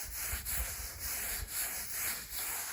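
Brown coat plaster spread over a scratch coat with a trowel, a steady close scraping rub in repeated sweeping strokes, no talk.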